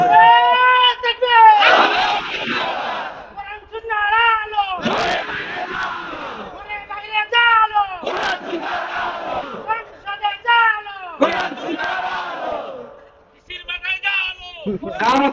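Large crowd at a religious rally in Sirajganj chanting a slogan in loud call-and-response bursts, a leader's voice alternating with massed shouting voices, repeated roughly every three seconds.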